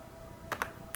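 A few quick keystrokes on a computer keyboard while entering a command in a Debian terminal, two close clicks followed by a third, crisp and near against a faint steady hum.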